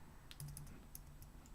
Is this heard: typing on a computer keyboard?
yes